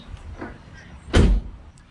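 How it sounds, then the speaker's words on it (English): A Jeep Wrangler door thrown shut with a single solid, booming slam, preceded by faint rustling and handling. "And then we're going to throw the door shut."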